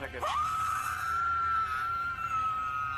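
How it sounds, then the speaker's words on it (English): A woman screaming while being arrested lets out a loud, sustained high-pitched scream that starts with a sharp rise and holds for nearly three seconds, close to the microphone. "The woman began screaming her head off"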